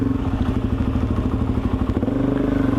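A Suzuki DRZ400SM motorcycle rides along a narrow road in Japan, its single-cylinder engine thrumming steadily with a dense, pulsing rhythm and a brief shift in tone near the end, loud and close with no talking.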